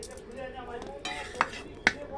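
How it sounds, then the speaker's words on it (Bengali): Spoon stirring fried rice with garam masala and green chilies in a pan, soft scraping with faint sizzle and two sharp metallic clinks near the end. "ভাত হয়ে গেছে এদিকে, এবার মিক্সড করা হবে"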